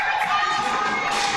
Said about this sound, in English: Crowd's waking up